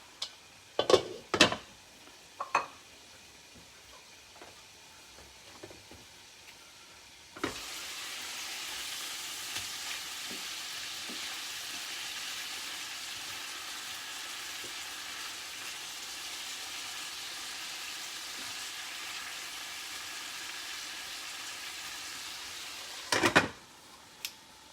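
A Kerala-style monkfish curry in a pan. A few sharp clinks of utensils come first, then a steady, even sizzle of frying starts and holds for about fifteen seconds before a final clatter, with no talk.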